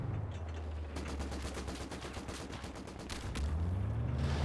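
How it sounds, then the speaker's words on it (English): Vickers machine gun fire in the strategy game Company of Heroes 2, rapid bursts of chattering shots from a building, mixed with other distant gunfire and low battle rumble. "Once again, a Vickers in a building"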